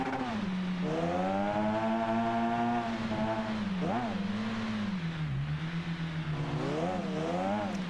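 Race car engines in the Automation game drone and whine steadily during a Nordschleife endurance race, pitch rising and dipping through corners, loud and continuous under a commentator's voice.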